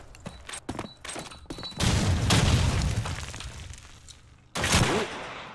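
A grenade explodes in Call of Duty 2, a loud booming blast that rolls off slowly, followed by a second sharp explosion, with quick footstep-like clatter beforehand.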